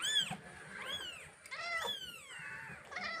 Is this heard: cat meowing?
yes